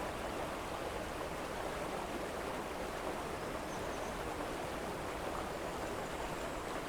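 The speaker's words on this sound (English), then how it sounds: "Awfully rough water." Rough river water in the Rosewater video game: a steady, dense rushing roar of fast-flowing water, even and unbroken throughout, with no voices.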